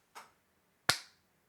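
Two sharp hand claps, a softer one followed by a louder crisp one about three quarters of a second later, close and alone in a quiet room.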